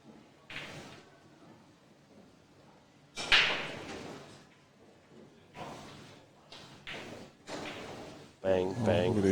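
Pool balls strike one another on a tough free-ball shot at a World Pool Masters qualifier, a sharp mid-clip crack followed by lighter clicks, with commentators talking over it.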